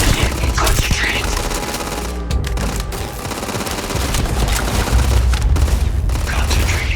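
Rapid automatic gunfire and booming blasts from a firefight in the video game Starfield, a loud, dense barrage with short gaps, under faint voices.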